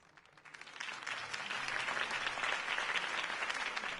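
Steady applause from a video game crowd that swells over a few seconds, dense clapping filling the space with no voices standing out.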